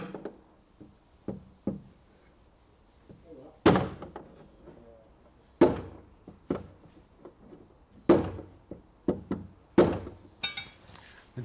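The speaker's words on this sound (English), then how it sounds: "The dent, I'm managing to get it up by hitting along the ridge of it, ding, ding, ding, ding, ding" A hammer strikes a dented Ford Orion Ghia body panel with sharp metallic knocks, some hard and loud, others lighter, irregularly spaced with short pauses over quiet background.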